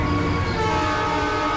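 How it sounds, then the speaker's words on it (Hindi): A train pulls into a station with a loud, steady rumble and a sustained horn-like tone over the rolling of railway cars, close and unbroken. "चलिए मैडम जी, ट्रेन आ गई है।"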